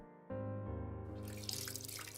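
Water running and splashing in a dating sim video game, a steady tap-like flow that starts abruptly over a low tonal hum and grows into fuller trickling, fairly close.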